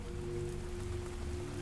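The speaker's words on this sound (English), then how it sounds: "hearing nothing but the wind and the rain on the," Steady wind and rain batter a window in a dark horror tabletop scene, forming a continuous dull wash with a faint low hum and no distinct drops.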